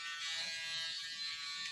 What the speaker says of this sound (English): the foil shaver is a great tool and it gets just as close